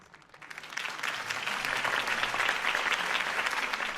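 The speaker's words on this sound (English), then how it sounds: "If only Mr. Wayne, my campaign's largest backer, could have heard that applause" Crowd applause after a campaign speech in the Batman Telltale video game, a dense steady clapping that swells in after a quiet start and holds loud and full throughout.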